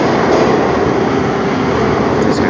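A Saint Petersburg metro train rumbles loudly and steadily from inside the carriage, a continuous close roar of wheels and motors with a faint squeal near the end.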